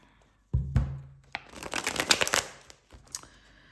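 A tarot deck is shuffled close by, with a quick flurry of riffling card snaps and soft slaps and a short pause between bursts.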